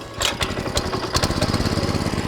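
Small engine of an FTL620 mini plough tractor being crank-started, with a few uneven pulls and then a rapid, loud chugging putter as it catches and runs close by.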